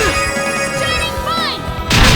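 Explosion spell going off in the game Tales of Symphonia, a loud sustained crashing blast under game music with swooping magical tones, then a heavier burst hitting near the end.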